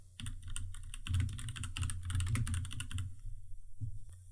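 Typing on a computer keyboard: quick bursts of clicking keystrokes in an irregular rhythm, close and clear, pausing briefly near the end before a few final taps.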